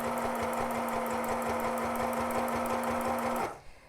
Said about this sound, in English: I'm going to sew and approach the corner of this pillowcase sample here.